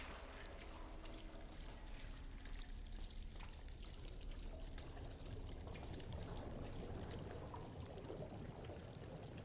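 Ink dripping and trickling in the Bendy and the Dark Revival video game, a steady low liquid pour and drip texture running continuously and moderately loud throughout, with no voices.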